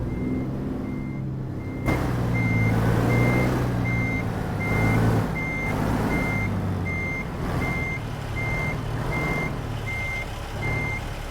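A truck in American Truck Simulator reverses with a steady, evenly spaced backup beep repeating over a continuous low diesel engine rumble, loud and close, with no talking.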